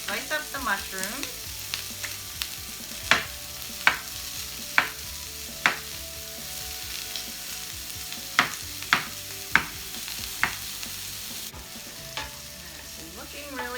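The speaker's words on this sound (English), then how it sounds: "And while that is sauteing, I'm going to slice up the mushrooms." Japchae ingredients sauté with soy sauce in a hot pan: a steady close sizzle runs throughout, punctuated by roughly a dozen sharp knocks of a utensil stirring and tapping against the pan.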